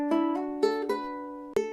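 Ukulele notes plucked one at a time with a finger on the second fret of the fourth string: four or five clear, ringing tones with steady harmonics, each sustained and decaying, played slowly and close up with no talk.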